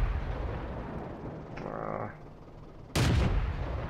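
World of Tanks tank cannon fire: a sudden loud broadband blast near the end, preceded by a fainter mechanical whir and continuous background game noise.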